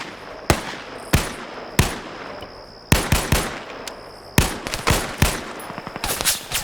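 Rifle fire in a video game: sharp single shots and short bursts cracking out at irregular intervals, loud and close, with brief quiet gaps between volleys and no talking.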